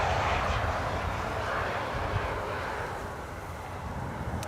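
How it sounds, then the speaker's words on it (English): Embraer E2 jet landing on the Polderbaan runway at Schiphol, a steady broadband roar with low rumble and wind buffeting on the microphone, holding level then easing slightly toward the end, no talk. "E2 Embraer just now landing here."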